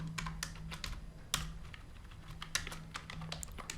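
Code being typed on a computer keyboard, a steady, close patter of light clicks with a few sharper key strikes over a faint hum, and no voices.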